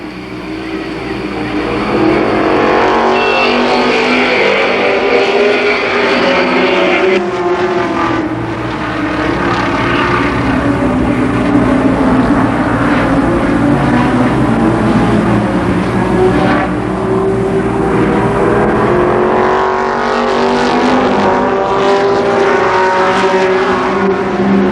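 Race cars roar through a limited sportsman heat race at Columbus Motor Speedway, a loud, continuous engine drone with shifting pitch as the pack circles the oval, steady and close throughout.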